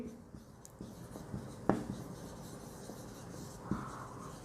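Chalk or marker writing on a board during a lecture on types of solutions, with faint scratchy strokes and a couple of sharper taps at quiet, close range.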